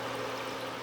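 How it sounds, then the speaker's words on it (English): Water poured into a pot on a NuWave Flex induction cooktop, heard as a steady, close, even rush of liquid with no break. "So let's put some water in here and see how fast it boils."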